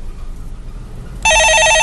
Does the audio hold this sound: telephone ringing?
yes